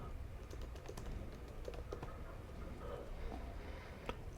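Someone types a queue name on a computer keyboard, a quiet, fairly steady patter of key clicks lasting about four seconds with no one talking.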